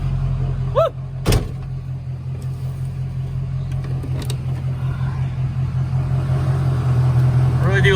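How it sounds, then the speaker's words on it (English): Mud truck engine running steadily as it drives, a loud continuous low rumble with a brief bump or clunk near the start, and a voice calling out briefly over it. "It's gonna be so nice to drive this thing again."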